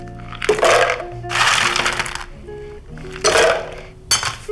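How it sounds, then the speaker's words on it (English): Scoops of ice clink and crash into plastic blender cups for summer cocktails, three or four loud bursts of rattling cubes separated by brief pauses, close and clear. "So we're gonna put a scoop of ice in each one."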